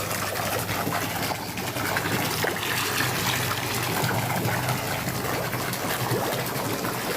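Homemade fermented pond water stabilizer with rice flour bubbling and churning, a steady, loud, continuous fizzing wash of liquid that stays close and unbroken throughout, with no talking.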